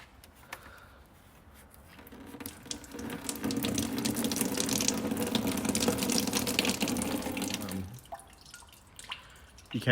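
Water trickling out of a plastic drain while a drain plug is worked on, a close, steady splashing flow that swells through the middle and then stops, with scattered faint clicks and no talking.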